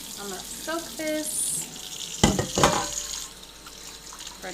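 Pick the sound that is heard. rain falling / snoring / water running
water running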